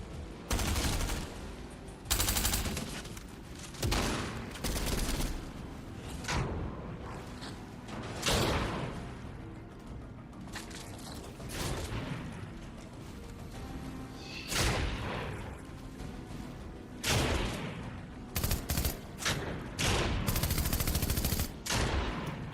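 Rapid gunfire crackles through a Fortnite match, with repeated bursts of shots and automatic fire, some loud and close, others farther off, plus occasional thuds and game effects.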